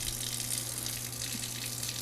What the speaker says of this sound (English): why are you running these eggs underwater while you're trying to peel them?